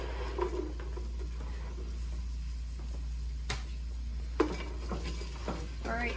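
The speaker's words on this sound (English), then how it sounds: "So I want you to saute it until the onions are kind of clear, but not brown" Onions and garlic sautéing in a pan for minestrone soup give a soft, steady sizzle with occasional utensil clicks and scrapes from stirring, no talk.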